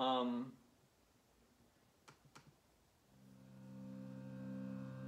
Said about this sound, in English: That's what the note C sounds like.